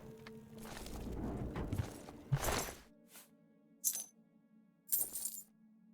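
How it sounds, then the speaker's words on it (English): A bunch of keys dropped in the game Oblivion, heard as a few short metallic jingling bursts spaced a second or so apart, close and fairly clear over a low, steady game ambience. "Be dumping a whole bunch of keys."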